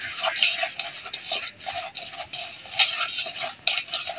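A spoon scrapes and swirls through a batter as about ten grams of flour is mixed in, a continuous loud rhythmic stirring with repeated clinks against the bowl.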